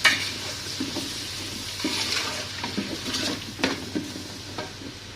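Tomato frying for chicken kabsa, stirred in a pan with scraping utensil strokes over a steady soft sizzle, close up with no talking.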